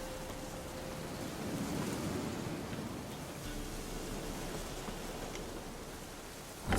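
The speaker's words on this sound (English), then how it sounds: "Storm, damn it." A stormy downpour in The Witcher 3 hisses as steady rain with low rumbling thunder rolling underneath, a continuous broad wash at moderate level throughout.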